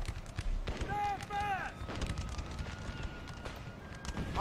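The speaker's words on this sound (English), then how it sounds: "look at that canister fire" Canister artillery fire in Napoleon: Total War during an American Civil War battle at Kernstown, heard as booming blasts and crackling volleys under battlefield noise, along with distant shouts.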